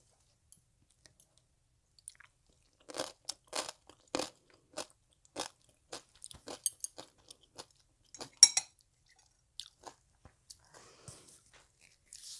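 Someone eats spicy skate salad (ganjaemi muchim) with makgeolli, producing scattered crunchy bites and chewing clicks, close and quiet, in short irregular bursts separated by silence.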